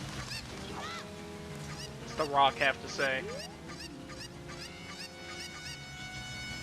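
Cucco chickens in the video game Ocarina of Time, played as a randomizer, squawk in a short cluster of loud, honking clucks midway through while someone talks over the game audio.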